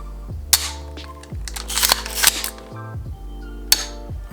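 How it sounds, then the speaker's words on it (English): Sharp mechanical clicks from an empty Sig Sauer MPX pistol caliber carbine being dry-fired: a crisp trigger break, then the reset, repeated a few times over a low background hum with faint handling rattle. "So here's the first trigger pull. Reset."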